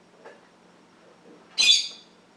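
A pet bird lets out one sharp, loud squawk close by, breaking an otherwise quiet room with only faint rustles before it.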